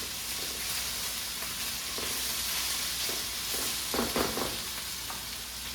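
Potatoes frying in a pan give a steady broadband sizzle while eggs are beaten alongside, with a few brief clinks and scrapes near the end under the continuous hiss.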